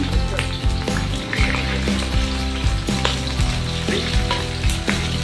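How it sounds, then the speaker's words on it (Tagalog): Chicken liver sautés in a hot pan with a steady, loud sizzle and frying crackle throughout. Occasional stirring clinks break through, and no one speaks. "Gigisa na po natin yung chicken liver."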